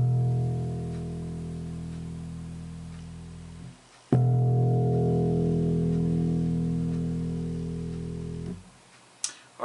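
The open E string of a four-string bass guitar is plucked twice, each deep note ringing and slowly fading for several seconds, alone and close.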